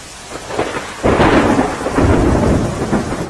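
Water roars and rushes in a heavy, continuous torrent from two opened gates of the Thebi dam in Amreli after heavy rain, surging louder after the first second and staying powerful throughout.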